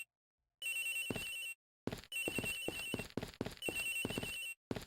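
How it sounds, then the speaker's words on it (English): Cell phone ringing in Ace Attorney Investigations, a repeating electronic ringtone in short bursts separated by brief silences, mixed with game sound effects, no voices. "Agent Hicks's phone! It's ringing from somewhere, sir!"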